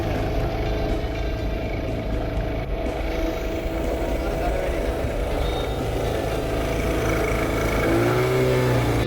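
A boat engine drones steadily as a river boat ride gets underway on the Madu Ganga. The hum is fairly loud and constant, and a tone rises near the end.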